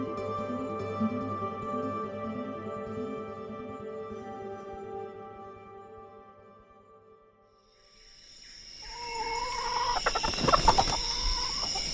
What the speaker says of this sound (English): Imagine you carry a live chicken in your backpack